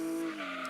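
Tyres squeal as a Nissan 200SX brakes hard and skids in Gran Turismo 2, a loud, sustained screech over engine tone lasting under a second.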